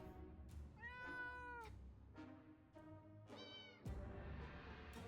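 A cat in the video game 60 Seconds meows several times, drawn-out harmonic cries with short gaps between them, clear and close over a low background rumble.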